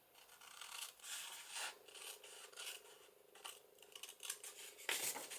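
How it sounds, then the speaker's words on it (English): Scissors snip pieces off at an angle with a series of close, quiet crisp cuts and rasping slides, irregularly spaced, with a sharper snip near the end. "I'm going to cut these pieces off"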